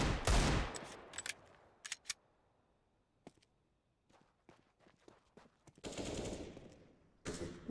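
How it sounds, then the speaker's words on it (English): Gunfire from a Counter-Strike match on the Dust2 map, heard as scattered bursts and single shots with quiet gaps and footstep-like clicks, growing denser near the end. "Good shot from Bolts on towards the players at short."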